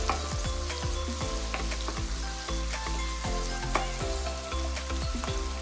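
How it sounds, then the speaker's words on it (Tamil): Cabbage, beans and carrot sauté in a hot pan for street-style chicken noodles, a steady loud sizzle broken by repeated scraping and tossing strokes of a spatula, with no talking. "நாம எடுத்து வச்சிருக்கிற முட்டைக்கோஸ், பீன்ஸ், கேரட் இது எல்லாத்தையுமே சேர்த்துட்டு நல்லா வதக்கி விட்டுக்கலாம்."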